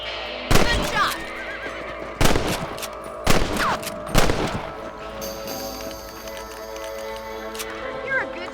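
Horses in the Western video game Red Dead Redemption whinny and clop amid sharp bursts of gunfire, four loud cracks spaced over several seconds, with a voice speaking between them.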